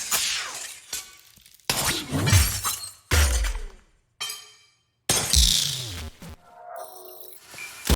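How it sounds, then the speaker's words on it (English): Several bursts of glass shattering and breaking, each a loud crash followed by tinkling shards, spread across the clip with short gaps between, alone with no talk. "you have the glass breaking on the right side."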